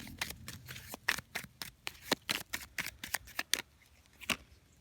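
A deck of playing cards is shuffled by hand during a tarot-style card reading, a quick run of crisp riffling snaps and slaps, close and fairly quiet.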